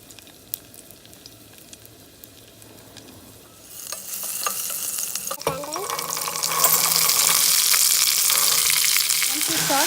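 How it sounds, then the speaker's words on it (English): Seeds and ginger hit hot oil, starting as faint clinks and stirring, then building into a loud, steady sizzle that grows stronger toward the end. "Put some oil, seeds, adding some ginger,"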